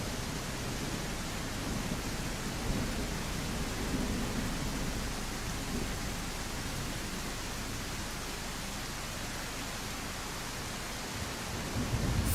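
A thunderstorm in the game I Am Jesus Christ, dense steady rain roar with faint low rumbling, loud and unbroken throughout, no voices.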